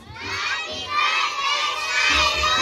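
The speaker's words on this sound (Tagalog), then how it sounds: "Everybody shout, say happy birthday, Cyrus!" A crowd of children at a Spiderman-themed birthday party shouting a birthday greeting in unison, loud and close, rising in bursts over about three seconds.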